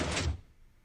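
Minecraft piston door opening or closing, a single loud thud-like clunk that quickly fades to near silence.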